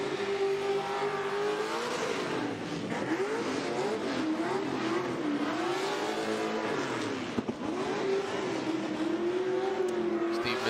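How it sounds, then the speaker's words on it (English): Formula Drift Pro Spec car revving at the start line while warming its tires in knockout qualifying, engine pitch swinging up and down in repeated waves, loud and continuous with tire noise underneath. "Steve Misko warming up his tires"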